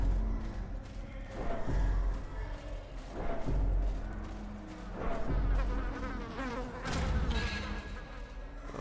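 Insect-like buzzing of a mosquito in the dark fantasy game Darkest Dungeon, a steady drone that swells and fades in waves over layered game music and ambience, with no voice.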